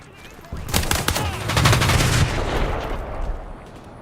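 A burst of M10 submachine gun fire in a modern military shooter game, a rapid run of close, loud shots lasting a few seconds before fading into background noise.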